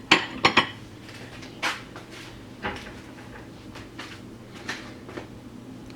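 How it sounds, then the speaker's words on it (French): Utensils clink and scrape against a bowl while ingredients for coconut and semolina ghriba cookies are mixed by hand. The knocks are sparse and irregular, with a few sharper clatters, close and without talk. "On va mélanger les ingrédients un petit peu."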